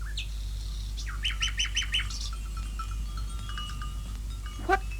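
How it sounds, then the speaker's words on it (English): A nightingale sings in a series of bright, repeated whistled notes, then a few softer trills and a final rising call, fairly close over a low steady background hum. "sat a nightingale, singing"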